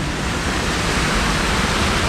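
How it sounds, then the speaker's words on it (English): A waterfall at the Toverland theme park rapids ride, a dense, steady roar of falling water that fills the whole clip loudly and evenly with no other sound standing out. "Bit of waterfall action."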